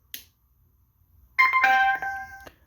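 An aftermarket Bluetooth speaker horn on a DIY e-bike conversion sounds after a switch click, a loud, bright melodic electronic tone lasting about a second before cutting off.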